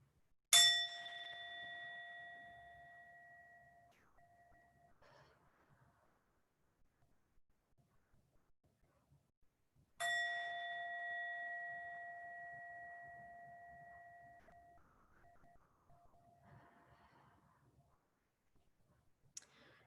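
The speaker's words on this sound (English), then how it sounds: "you can listen to the sound of the chime if that helps you focus" A meditation chime is struck twice about ten seconds apart, each ring a clear bright tone that lingers and fades over several seconds, with faint soft rustling in the quiet room between strikes.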